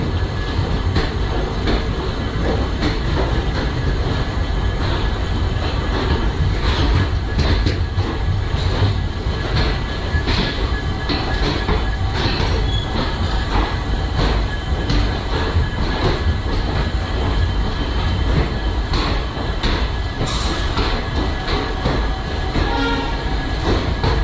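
The Dibrugarh–Guwahati Intercity Express runs on its rails with a loud, continuous, close rumble and rattling clatter of the carriages, sustained throughout with a brief higher whine or horn-like tone near the end.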